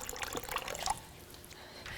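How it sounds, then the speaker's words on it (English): Hot water poured into one corner of a basin, a soft close splash and trickle lasting about a second, then fading to quiet dribbling. "Pour it in one corner, check the temperature of the water with your hand as you're replacing some of the hot water."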